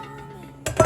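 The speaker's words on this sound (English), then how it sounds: "now you're going to take one of your bowls" A mixing bowl is taken out and set down on a kitchen counter while baking pumpkin donut holes, giving a sudden hard clatter followed by a brighter ringing clink, close by after near silence.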